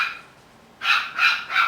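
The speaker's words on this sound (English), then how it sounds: "the pup wants someone to play with him right now" A puppy, a young male, gives three sharp yips in quick succession after a short quiet pause, close and fairly loud, with no talking.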